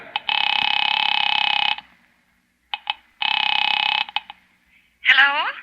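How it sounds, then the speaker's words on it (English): A vintage telephone in a 1945 radio drama produces two long buzzing tones separated by brief clicks, then a voice begins speaking at the end. "Picking it up quietly, I dialed my daughter's number, Alec Bartlett's wife."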